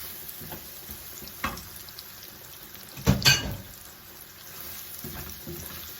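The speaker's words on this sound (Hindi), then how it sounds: "तो बस हम ये इसके अंदर ऑयल में डाल देंगे और इसको हिला लेंगे जल्दी जल्दी।" Marinated beef goes into hot oil in a pan and gets stirred quickly. A loud sizzling burst rises at the moment it lands, then fades to a steady, quieter frying hiss.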